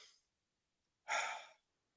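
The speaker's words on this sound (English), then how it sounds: "take a deep breath in" A single deep inhaled breath, close and fairly soft, lasting about half a second after a short trailing breath sound and silence, with no talk.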